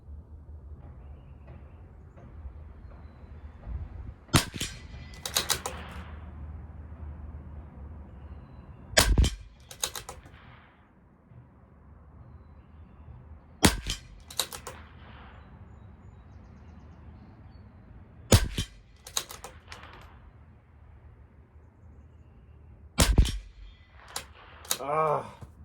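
A CZ457 LRP rifle fires Aguila Rifle Match ammunition at 50 yards outdoors: six sharp, loud cracks spaced several seconds apart, each trailing a short echo, over a quiet background with faint bird sounds and low rumble.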